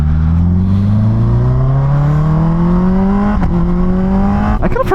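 A Yamaha R6 sport motorcycle engine revs up steadily while riding, its loud, close, rising whine climbing in pitch over several seconds before a brief shift break and a fresh climb.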